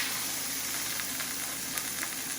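Pork chops sizzle and crackle steadily in a hot pan just after being flipped, a close, continuous frying hiss with small popping spatters.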